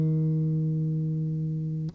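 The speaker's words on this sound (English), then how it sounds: "you have to slide up and down from the 6th to the 8th and then back" An electric or acoustic guitar note held steadily, sliding along the neck between the 6th and 8th frets and back, sustaining clearly for about two seconds before a brief pluck and fade at the end.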